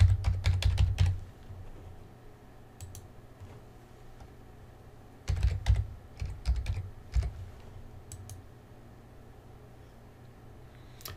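Fingers tap out a sign-in on a computer keyboard in quick, close bursts of clicks, a busy flurry at the start, a pause with a few stray keystrokes, then another cluster before the room falls quiet.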